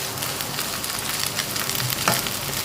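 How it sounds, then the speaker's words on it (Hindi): Grated potato for aloo halwa fries in a non-stick pan with a dense, continuous sizzle, close and fairly loud, with a faint scrape of a stirring spoon near the end. "हम इतना भूनेंगे इनको पिंक करने तक।"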